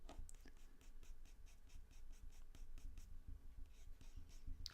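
Putty rubber pushed back and forth over a pencil line on paper, giving soft, steady scuffing strokes in a close, quiet rhythm.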